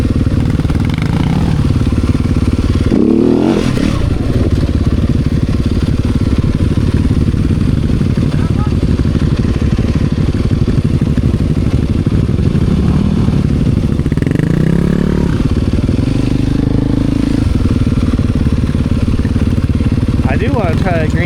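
A motorcycle of about 250 cc runs steadily on a trail ride, its engine droning loud and close throughout with a few clattering bumps and shifts in revving, while a rider's voice comes through at moments.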